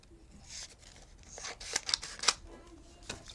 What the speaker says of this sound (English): I'm just going to snip this right in half like this.